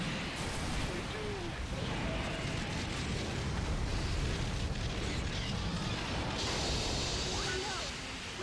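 Godzilla smashing a generator in a PS4 Godzilla game, a loud, sustained roar of destruction and crashing noise that fills the whole stretch without pause.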